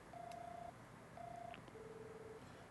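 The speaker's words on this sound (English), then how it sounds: "Lloyd called the phone number he received." Phone number being dialed in the video game Trails from Zero: three bursts of steady electronic keypad tones, the first two longer and the last a faint, clipped tone, over a quiet background hum.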